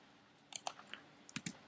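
Quiet clicks of typing on a computer keyboard, a few scattered keystrokes at first and then a quick cluster of taps, close and alone without any voice.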